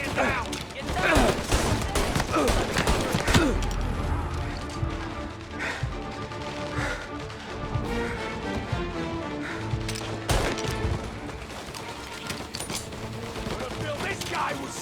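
Dense bursts of gunfire crack and rattle through a shootout in Mafia: Definitive Edition, with machine-gun volleys and scattered single shots across the whole stretch, plus crashes and mechanical clatter mixed in.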